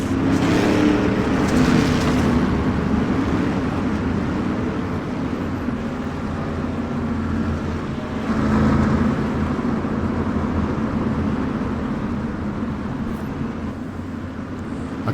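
Street stock race cars lap a dirt oval in the iRacing sim game, a dense pack of engines roaring and droning continuously at full throttle, with swelling passes around the two- and eight-second marks.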